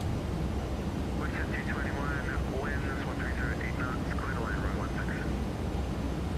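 A WestJet Boeing 737NG on approach in the X-Plane 12 flight simulator, a steady broadband jet roar throughout, with a radio voice talking over it.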